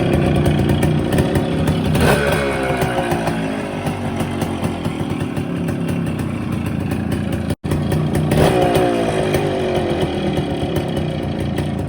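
Restored Suzuki Max R 100 motorcycle running with its new silencer fitted, a loud, close, steady engine putter with blips of revving, briefly cut out for an instant before carrying on.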